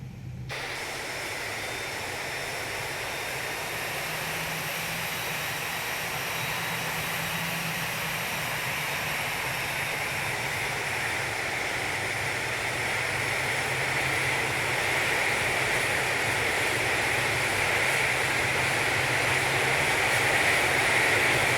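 Continuous Airbus A321 airliner cockpit engine hum from an FMOD sound pack in a flight simulator, a steady broadband roar with whining tones that slowly builds in loudness throughout, with no talking.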